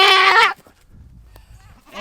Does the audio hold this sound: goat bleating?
yes